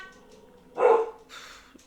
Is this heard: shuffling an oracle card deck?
no